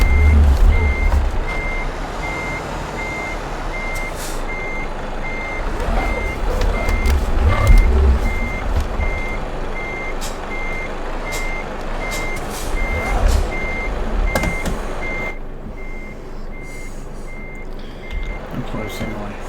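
A truck in Euro Truck Simulator 2 reverses to hook up a trailer, its steady reversing beeps repeating evenly over a low diesel engine rumble, with no talk over them.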